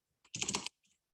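A short flurry of computer keyboard typing, a tight cluster of quick close key clicks lasting under half a second, followed by one faint tap in otherwise quiet surroundings.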